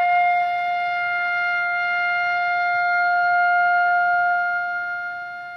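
A flute holds one long, steady F note for over five seconds, alone and clean, fading slightly at the end.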